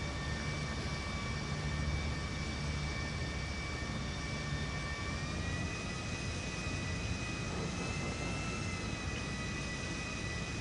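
Aircraft taking off from a runway in GTA Online, a sustained engine roar with steady high whining tones that shift slightly in pitch as it climbs away, loud and continuous.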